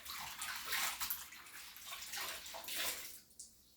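Tap water runs and splashes steadily in a kitchen sink while hands and a towel are washed, rising and falling in strength before cutting off near the end.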